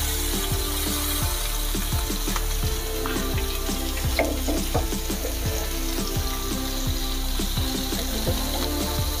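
Chicken kabab pieces fry in butter and oil in a pan, giving a steady, close sizzle with a regular run of soft clicks and crackles throughout.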